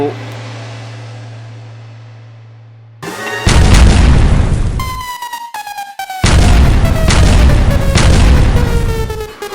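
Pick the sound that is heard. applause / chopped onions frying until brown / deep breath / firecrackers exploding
firecrackers exploding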